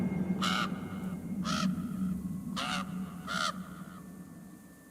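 A raven in a video game gives four harsh, throaty caws spaced about a second apart over a low, steady ambient hum, clear and fairly close.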